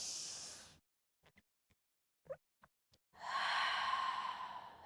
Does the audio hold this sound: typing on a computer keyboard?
no